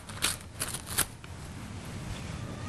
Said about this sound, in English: I'm going to tear open this envelope